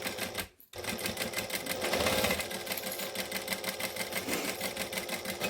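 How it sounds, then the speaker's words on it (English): A sewing machine runs continuously while stitching down a fabric edge, giving a fast, even mechanical whir and needle chatter up close after a brief pause at the start. "we're just stitching down the edge, pulling off the clips as we go"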